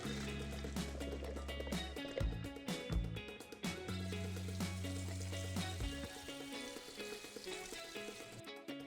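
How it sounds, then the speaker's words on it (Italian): Cooked pasta being drained and cooled under running water in a kitchen, a steady hiss of flowing water that carries on throughout, with tonal background music underneath. "Scolo la pasta e la raffreddo."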